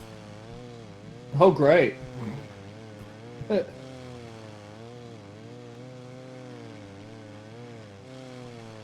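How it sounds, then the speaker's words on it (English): A chainsaw in the zombie video game No More Room in Hell 2, a buzzing, wavering motor hum running steadily throughout, with a short exclamation and brief player chatter over it. "Big item. What? Chainsaw."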